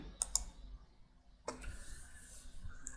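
A computer mouse gives two quick, close clicks near the start, then a faint rustle and scattered softer clicks follow against a quiet room background.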